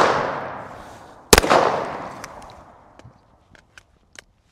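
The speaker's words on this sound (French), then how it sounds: "Avant de continuer à parler, on va d'abord tirer quelques cartouches." A single sharp, loud rifle shot from a Watchtower Apache, 2011-pattern, cracks out at an outdoor range and rolls away in a long fading echo, followed by a few faint clicks and small metallic sounds.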